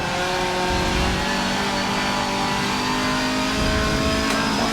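A Ferrari race car on track testing accelerates hard, its engine note loud and sustained with steady high-revving harmonics throughout, no voices over it.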